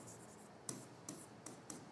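A pen or pencil scribbling onto a fresh notebook page, faint close rubbing with a few sharper strokes spaced out over a quiet background, and no voices.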